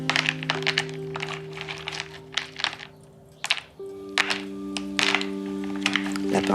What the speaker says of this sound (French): J'aime beaucoup le bruit des pastels.